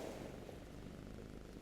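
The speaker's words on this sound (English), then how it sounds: "the soft purring of the cat" A low, steady purring from a cat settled indoors, a soft continuous rumble that stays even and close with no breaks.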